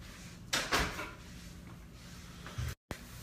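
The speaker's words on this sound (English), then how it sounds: "let me close the door" A door is shut in a quiet room: a soft thud with a short sliding rush, then a second firmer bump a couple of seconds later.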